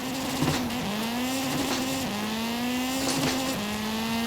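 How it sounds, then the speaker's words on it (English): Hoonigan Escort engine in Forza Horizon 5, revving steadily through repeated gear shifts, its pitch climbing and dropping at each change, loud and close with no talking. "I'm in one of my favorite cars to drive around in Forza right now, the Hoonigan Escort"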